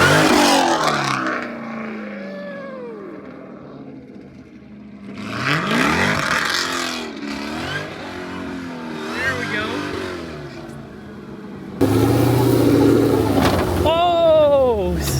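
A 1000-horsepower Baja-built Jeep Trackhawk revs and accelerates in several loud surging bursts, engine pitch sweeping up and down, with a harsher, louder roar near the end.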